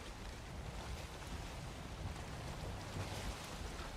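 Sailing boat moving across open water in the Valheim video game, with steady wind and wave wash rolling continuously throughout, with no voices.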